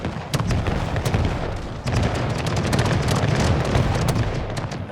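Dense musket volleys and cannon fire from a Pike & Shot battle between Spanish and Swedish armies, a continuous crackle of overlapping shots with sharper reports standing out, loud and sustained with no talking.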